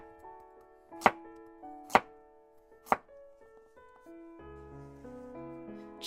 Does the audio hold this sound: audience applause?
no